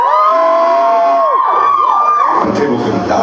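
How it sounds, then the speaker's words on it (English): A comedy club audience screams and cheers together on cue, a loud, dense crowd roar with high shrieks and whoops rising over it, close and sustained for a few seconds. "Alright, everybody over here, scream if you're drinking alcohol."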